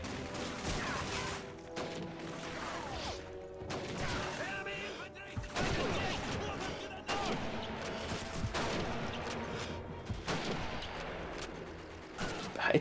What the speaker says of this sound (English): this Mosin Nagant sounds pretty wimpy